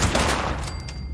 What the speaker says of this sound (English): I'm gonna start shooting people.